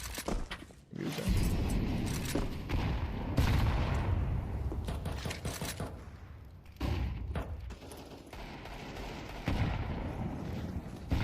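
Pistol, MP9 and AK fire in a competitive shooter match, heavy overlapping gunshots and bursts crackling in repeated clusters, loud and dense throughout.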